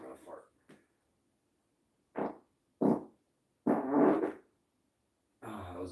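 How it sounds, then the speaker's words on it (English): A run of about five or six farts, short low bursts separated by silent gaps, the later ones longer and louder, all close to the mic. "I think that was 5, 6, or 7 farts."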